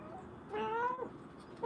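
A cat gives one clear, close, wavering meow lasting about half a second, then starts a second short meow at the very end, in a quiet room.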